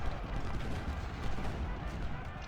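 Artillery fire in the Civil War strategy game Ultimate General: Civil War, a dense rumbling barrage of booming cannon shots and distant gunfire rolling continuously.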